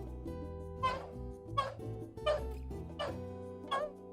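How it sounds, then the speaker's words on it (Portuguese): Dogs barking in short sharp bursts, about five barks spaced roughly evenly at close range, with a sustained musical tone underneath. "Os cães reagiram latindo diante da que continha a droga"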